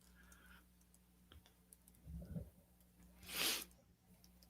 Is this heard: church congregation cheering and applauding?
no